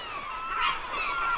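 Seabirds call in a steady, overlapping chorus of honking, goose-like cries above a humpback whale feeding at the surface, fairly loud and continuous with no talk.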